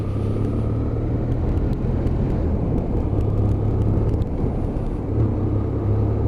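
BMW F800ST motorcycle engine chugging in 4th gear at low speed through roundabouts and corners on Michelin tyres, a steady loud low rumble with wind noise, continuous throughout and no talking.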